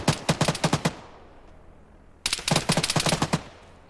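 Burst of machine-gun fire from an M113 armored vehicle in Arma 3, a rapid string of loud shots, a pause of about a second and a half, then a second longer burst, with no talk.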